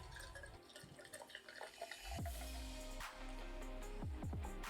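A can of GFuel PewDiePie energy drink is poured into a glass, with a steady liquid stream and gurgling splashes under fizzing, a few louder glugs near the end, and no talk.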